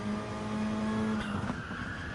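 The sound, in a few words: tyres squealing while cornering in a racing video game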